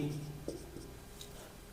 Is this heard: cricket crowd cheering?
no